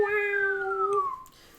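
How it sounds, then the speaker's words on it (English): A cat gives one drawn-out meow that slides downward in pitch as it is lowered down a slide, close and fairly clear before it fades into quiet. "With all the dignity of a cat getting hoisted, he sort of slithers down"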